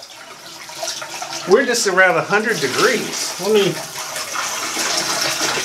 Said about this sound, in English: So even at this low flow with kind of a sad looking shower